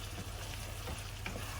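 A thickening sauce sizzles and bubbles in a frying pan while being stirred, a continuous close frying hiss with soft scraping, no voices.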